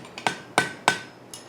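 A light hammer shapes hot iron over a mandrel while forging a pintle hinge: three sharp ringing metallic strikes at an even pace, close and loud, with a fainter tap at the start and end.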